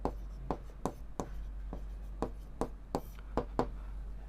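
Chalk or marker strokes on a board while a maths relation problem is worked, a run of about ten sharp taps and short scrapes in uneven rhythm, close and clear over a steady low hum.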